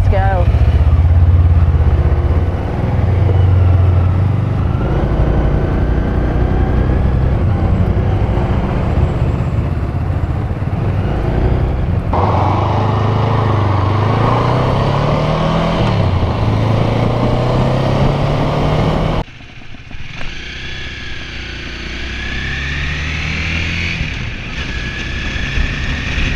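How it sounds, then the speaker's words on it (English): A thirty-year-old Honda Rebel motorcycle, a small beginner's bike, pulls away with a loud, steady engine drone that shifts pitch as it accelerates and changes gears, wind buffeting the microphone throughout, the engine easing back near the end. "they sound exactly like your Rebel"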